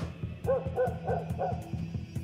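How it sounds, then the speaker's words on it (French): A dog barks repeatedly at a steady pace, a string of several close, mid-pitched woofs over a constant background hum. "Pourquoi il n'arrête pas d'aboyer, le chien ?"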